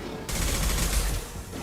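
Rapid gunfire in the Mass Effect 2 video game erupts abruptly after a brief quieter lead-in, then a loud sustained burst of shots and blasts continues to the end.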